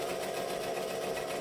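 A sewing machine stitching vinyl for an all-vinyl bag runs at a steady slow pace, giving a continuous close mechanical whir and buzz with no pauses.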